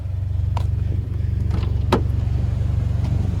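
A hail-damaged car idling during a walkaround, with a low steady engine hum and pulsing rhythm, a few short clicks and a brief sharp knock near the middle, no speech.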